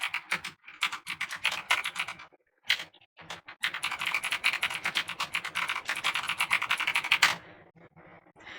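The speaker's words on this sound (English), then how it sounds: "I'll type out the whole thing then" Rapid keyboard typing in bursts of dense, crisp clicks with short pauses between runs, close and fairly loud, with no talking.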